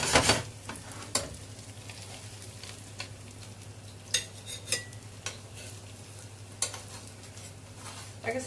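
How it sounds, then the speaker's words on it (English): Gnudi warming gently in hot butter with sage give off a soft, steady sizzle, broken by a few sharp clicks and taps of a utensil against the pan. "I'm just warming them in the butter and the sage"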